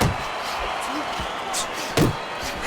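Punches thud in the Fight Night Champion boxing video game, a few dull impacts with one sharper hit near the end, heard under crowd noise and a commentator's voice.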